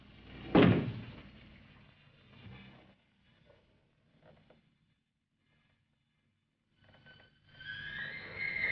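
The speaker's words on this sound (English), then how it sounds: "Knock once if you hear me." A single solid knock from inside a closet, one loud close thud followed by near silence and a faint hiss toward the end.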